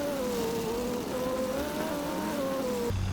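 Leopard 2A4M tank engine in War Thunder accelerating across muddy terrain, a steady loud drone with a rising and wavering pitch that holds nearly constant before a brief change near the end; no talk.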